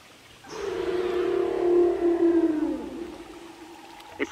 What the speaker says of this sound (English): they're from the deep ocean, so things like whale song, dolphin clicks, echolocation